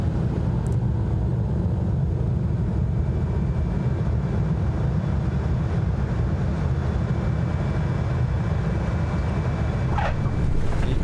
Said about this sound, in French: That's how you land an aircraft.